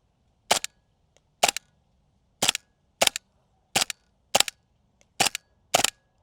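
Airsoft gun firing at a distant target, eight sharp snapping shots at uneven intervals, loud and close, with faint clicks between some of them and no voices.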